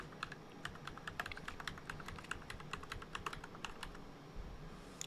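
Keys tapped on a computer keyboard while an admin password is entered during a Windows Server 2025 setup, a steady run of light, crisp clicks at close range with brief pauses, no voices.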